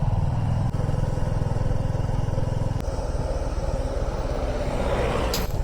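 A motorcycle engine rumbles loud and steady at close range while riding along a road toward Simana view point near the Nepal border, with continuous wind noise and no talk.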